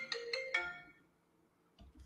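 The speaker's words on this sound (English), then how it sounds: "hold on, I'm getting a phone call." Phone ringtone from an incoming call: three quick bright melodic chimes close together, fading into a faint tail, followed by soft low knocks near the end.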